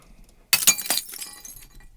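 Glass shattering added to impact hits: a sharp crash followed by a scatter of tinkling shards settling over about a second, close and clear.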